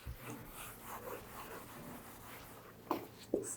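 Someone writes out the answer to a 10th-class trigonometry math problem in soft, scratchy strokes, faint and close, ending with two sharper taps.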